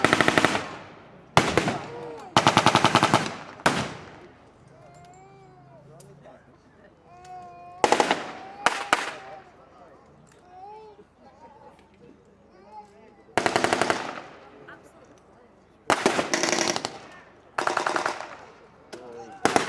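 Bursts of machine-gun and rifle fire ring out across a WWII battle re-enactment at Ramsbottom station, with loud rapid volleys separated by quieter gaps where someone talks over the scene.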